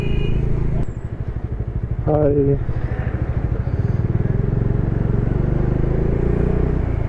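Motorcycle engine running at a steady cruise on a highway near Leh, a continuous loud drone with wind noise throughout, while a voice briefly calls out over it.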